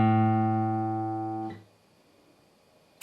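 A single guitar D string plucked once, ringing as a bright sustained tone that fades over about a second and a half before being damped, leaving quiet room noise and a small tap at the end.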